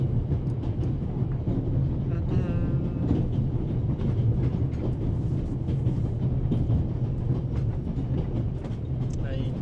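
Orient Express train from The Raven Remastered rolling steadily, a continuous loud low rumble with faint rhythmic clatter throughout, voices talking over it.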